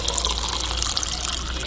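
Water pours steadily into an air cooler in a Pakistani home, a continuous close gushing fill with no pause.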